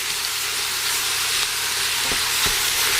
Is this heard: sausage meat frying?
yes